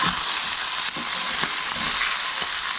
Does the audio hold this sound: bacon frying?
yes